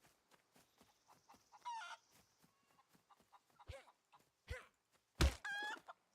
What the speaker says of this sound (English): There's the chicken. I see it right there.